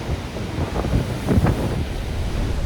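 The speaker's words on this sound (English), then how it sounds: "We have big swells coming in." Big ocean swells roll in on an open-ocean beach, a steady roar of surf with broader wave crashes swelling around the middle, mixed with wind buffeting the microphone, no voices.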